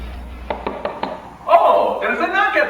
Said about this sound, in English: Oh, there's a knock at the door.